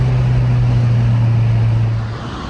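A 1988 Toyota custom cab truck driving along, its engine giving a steady loud low drone with road and wind noise that eases slightly near the end.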